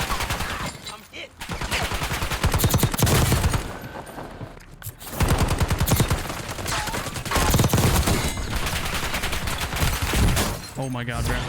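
Rapid bursts of automatic gunfire in Call of Duty Warzone (Black Ops 6, SMG loadouts), loud and dense with brief gaps, while a player talks excitedly over the shooting.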